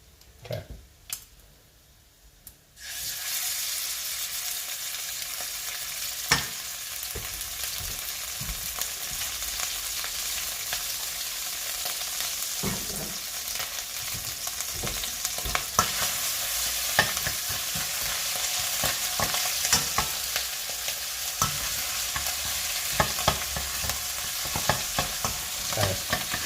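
Oil sizzles and fries in a light pan with a constant hiss after a quiet start, broken by occasional stirring clicks and scrapes.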